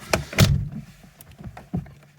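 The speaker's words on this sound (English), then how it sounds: "I'll just shut the door" Door of a Vauxhall Astra F (MK3) shuts with two solid thuds close by, followed by lighter clicks and knocks from the car interior.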